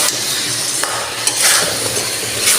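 Potatoes go into hot, oil-glossed spiced masala in a pan for a Bengali curry, giving a steady close sizzle with scraping stir strokes and brief clatter of a spoon against the pan.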